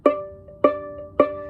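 High D on the A string of a violin or viola, with all three fingers pressed down, played as three evenly spaced plucked notes, each bright and decaying quickly, close up and alone.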